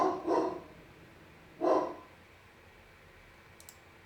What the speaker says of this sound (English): And now next door's dog is barking.